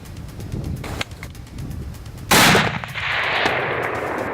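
Rifle shots ring out at a bull during a hunt: a couple of sharp cracks, then a loud close blast followed by a lingering roar of echo and rustle, with no talking.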